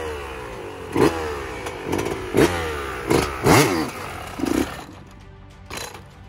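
A motorcycle engine catches again as the clutch is let out after a stop with feet down, giving several short, loud revving bursts in an uneven rhythm, close by, before dropping to a quieter idle.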